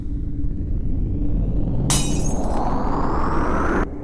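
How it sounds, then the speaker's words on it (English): Glass smashes suddenly with a bright, crashing burst over a low steady background hum, the shattering ringing on for about two seconds before stopping. "He didn't let go, he smashed the glass."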